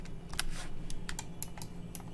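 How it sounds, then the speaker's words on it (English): A few crisp clicks of computer keys, including the 3 key, pressed during 3D modeling work, close and distinct over quiet room tone. "I'm going to hit 3 on my keyboard"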